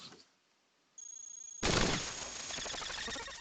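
Kinetic weapons fire in the robot video game Cogmind, a high electronic tone and then a sudden burst of rapid, rattling shots that keeps crackling, loud and close, with no talk.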